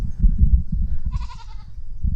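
A goat pushing against a fence lets out a single nasal bleat about a second long, loud and close, over a low rumbling background.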